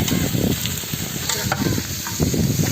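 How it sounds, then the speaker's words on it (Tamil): Chopped onions sauté in sunflower oil as they are stirred in a large pan at an outdoor village cooking spot, a loud, close sizzle broken by scraping stir strokes. "நம்ம வந்து வெங்காயம் கிண்டிட்டு இருக்காங்க பாருங்க, வெங்காயம் வதக்கிட்டு இருக்காப்புல"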